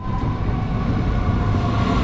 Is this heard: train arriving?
yes